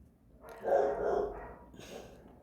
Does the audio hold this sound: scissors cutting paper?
no